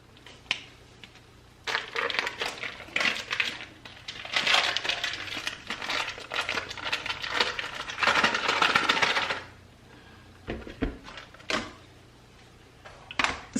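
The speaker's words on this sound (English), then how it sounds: "I am going to open my packages of cream cheese and dump" Cream cheese packages are torn open and emptied into a bowl, with bursts of crinkling, rustling foil and paper plus a few soft thuds, close and irregular, no voices.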